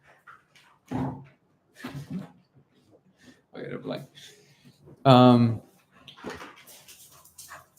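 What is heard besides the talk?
dogs playing, one trying to bite the other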